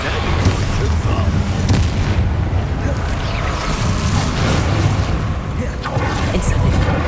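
A Bombarda blast spell in Hogwarts Legacy, booming amid ongoing combat effects with a few sharp impacts, rumbling through a loud, busy battle mix.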